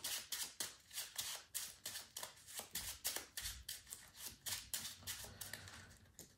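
Playing cards shuffled by hand during a game of the racing board game Heat: a close, steady run of about fifteen crisp flicking bursts over six seconds, with no talking.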